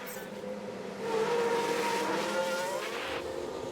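An F1 car from the F1 Manager 22 game rolls out onto the track for the first qualifying run, its engine tone rising steadily and holding at close range, with a low rumble beneath.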